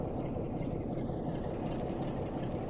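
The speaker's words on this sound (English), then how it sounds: "let's come to a stop, just use the loco brake for that" Locomotive rolling and braking toward a stop in Train Sim World 3 on Southeastern High Speed, a dense low rumble of wheels and engine, steady and close without speech.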